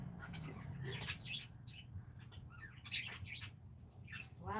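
Several pet birds, five kept together at home, chirp and tweet in quick bursts of calls over a steady low room hum, fairly close and moderately loud.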